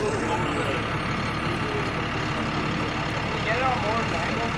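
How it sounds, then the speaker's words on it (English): Truck engine idling among parked cars near shipping containers of Japanese imports, a low, continuous rumble that stays close and steady, with faint shifting noise over it and no distinct talk. "there's truck number 2 with the other cars"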